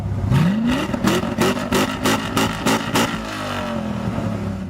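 A Spada Coda Trunca Italian supercar from Forza, with a 7-liter naturally aspirated V8 and six-speed manual, blips its throttle in a quick series of about eight sharp revs before settling into a steady idle.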